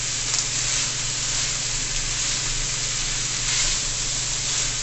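Chicken chow mein, cooked Jamaican style, sizzles steadily in a hot pan while a spatula stirs and tosses it, a continuous close frying hiss with no talk.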